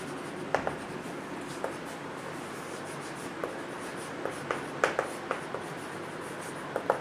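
A pen scratching out a maths equation on paper, steady soft scribbling strokes with small taps and ticks, close and quiet, no talk over it.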